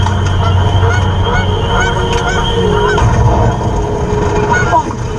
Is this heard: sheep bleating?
no